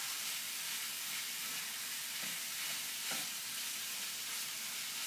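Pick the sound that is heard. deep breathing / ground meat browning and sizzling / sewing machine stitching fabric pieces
ground meat browning and sizzling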